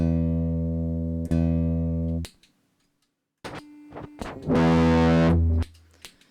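A sustained electric guitar E note, tone control fully rolled off for muffling while tuning, rings out twice, cut off between, then a few brief plucks and a short brighter strum near the end.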